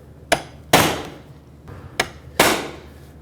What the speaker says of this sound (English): the way to properly unlock them is to put a punch right in the center